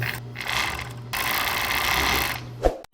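A serger overlocker hems fabric, its motor humming in a steady mechanical whir with rapid stitching chatter, pausing briefly before it runs on, then stops with a soft clunk.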